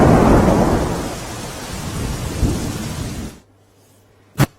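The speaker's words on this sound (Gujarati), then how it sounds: "ધીમી ધારે વરસાદ વરસી રહ્યો છે" Steady, heavy rain in Gir Somnath, Gujarat, roars close by for a few seconds, then cuts off abruptly, leaving quiet with a single sharp knock at the end.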